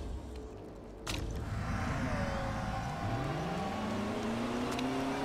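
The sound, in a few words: race cars driving out onto track in Motorsport Manager video game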